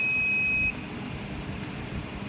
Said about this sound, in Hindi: कॉइल का जस्ट पीछे का पोर्शन में अगर हम टच करेंगे तो ये दोनों साइड में देखिए बीप दे रहा है